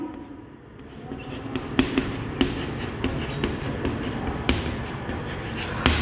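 Chalk or marker tapping and scratching across a classroom board during a class 10 English lecture, a series of sharp taps and strokes at close range over steady room noise.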